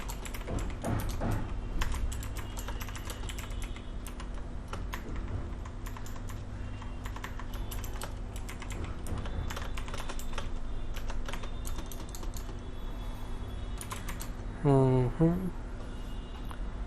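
Continuous rapid typing on a computer keyboard while writing C code, steady close clicking through the whole stretch, with a brief voice near the end.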